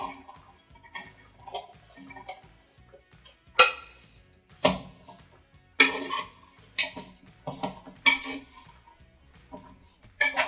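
Chopped vegetables go into a warm pan for veggie tostadas, bringing a string of sharp clatters and clinks of food and utensil against metal, spaced irregularly over a soft low sizzle, close and fairly loud.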